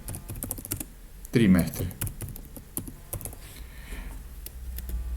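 Keys tapped on a computer keyboard while entering text into an Excel cell, scattered quick clicks at an uneven pace, close by, with someone speaking over them.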